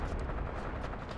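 Dense, continuous infantry gunfire from a platoon engaging from the east in the WWII tactics game Graviteam Tactics: Mius Front, loud and rumbling with overlapping rifle and machine-gun bursts and distant booms.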